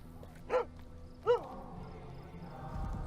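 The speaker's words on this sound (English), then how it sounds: "Good boy, dog meat." Two short, sharp barks from the dog companion Dogmeat in a video game, spaced under a second apart, over a low steady game backdrop with no talk.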